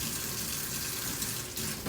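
Tap water running steadily into a sink while a strainer is rinsed, a constant hissing splash close by, with no voices.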